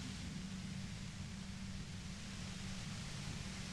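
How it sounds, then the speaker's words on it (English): Faint, steady hiss of white noise in the Disco Elysium game, a constant low rushing static with a dull low hum underneath and no voices. "You hear through the white noise."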